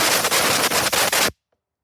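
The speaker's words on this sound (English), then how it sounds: "We got to blast out the bowl." A compressed air gun blasts out the carburetor bowl of a 2016 Poulan Pro walk-behind mower in one loud, continuous roaring hiss with a few brief dips, then cuts off sharply into silence.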